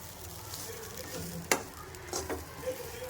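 Grated coconut stirred and fried in a pan, with a soft steady sizzle under sharp scraping strokes of a spoon against the pan, one distinct scrape midway and lighter ones after.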